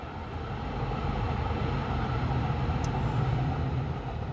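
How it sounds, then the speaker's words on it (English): A metro train rolls past early in the morning, a steady, loud low rumble holding through the whole stretch with no voices. "I want to give the time for the metro to go by. It's pretty noisy right here, right now."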